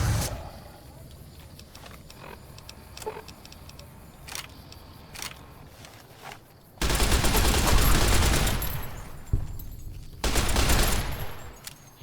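Sustained automatic gunfire from a machine gun in Fallout New Vegas, loud dense bursts from about 7 to 10 seconds and again near 11 seconds, after a quieter stretch of scattered clicks and ambient game noise.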